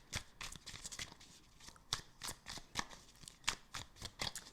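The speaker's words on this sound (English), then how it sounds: "let's get some advice here from the Oracle cards" Oracle cards are shuffled by hand in a steady riffling rhythm, with repeated crisp flutters and taps close by and no talking over them.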